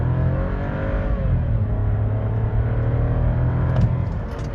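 Volkswagen Nivus Highline 200 TSI, 1.0 engine, under full throttle in first gear: a loud, continuous interior engine drone climbs in pitch, then holds near the top of the rev range, with no one speaking.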